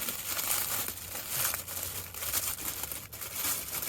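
Plastic packaging around a skateboard bag being torn open, a dense continuous crinkling and rustling close by, steady throughout with brief dips.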